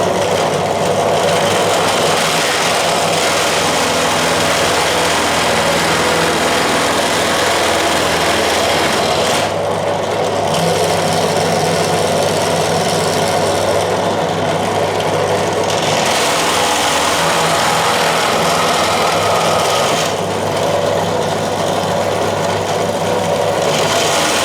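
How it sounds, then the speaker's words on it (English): An ordinary general-purpose drill runs continuously with a steady, high whine, with small changes in load, during restoration work on an 1865 Forster & Andrews pipe organ. "This is an ordinary drill, general purpose drill."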